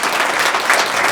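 A cheering section at a school student-of-the-month recognition applauds the student with dense, steady clapping, loud and close, with no voices over it.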